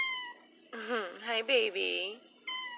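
A pet cat, upset at being left indoors, lets out a drawn-out, wavering meow and a few shorter cries nearby, while a person briefly speaks to it.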